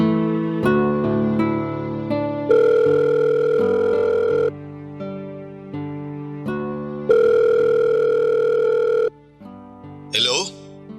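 A phone rings on an outgoing call, with long electronic ring tones repeating over background music and a brief voice at the end.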